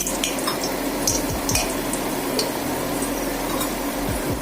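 Whole spices, cinnamon, cardamom, cloves, black pepper and a dried red chilli sizzle in hot oil in a pan, a steady crackling hiss with occasional light utensil clinks, no voices.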